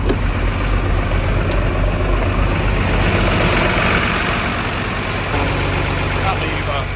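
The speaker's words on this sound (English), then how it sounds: "it's clutch down, pull the PTO out, activates the grab" A truck engine runs steadily with its PTO engaged to drive a grab, a loud continuous low rumble with a faint hiss above, close by and unbroken throughout.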